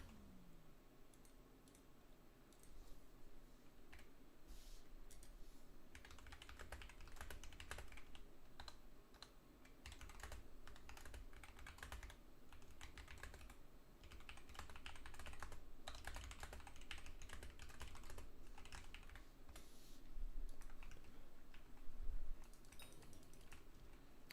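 Rapid, steady typing on a computer keyboard, a dense run of clicks lasting throughout, growing busier midway and then settling, with game sound humming low beneath it and no voice over it.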